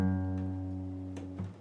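A single guitar note picked on the low E string and slid up to the third fret with the thumb, from a song intro; the note sustains alone and rises partway through.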